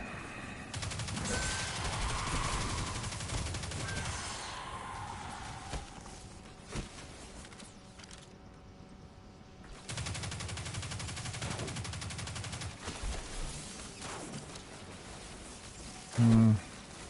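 Machine gun fire in the Destiny 2 campaign, sustained bursts of rapid gunfire in two stretches separated by a quieter gap, moderately loud amid game ambience.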